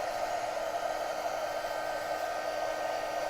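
A hair dryer or heat tool drying paper ephemera runs in a steady, loud, close whoosh of constant airflow, unbroken throughout.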